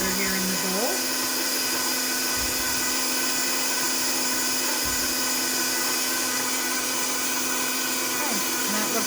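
An electric mixer works apple pie dough in a bowl, giving a steady loud motor whine with a constant pitch and only small dips as the load changes.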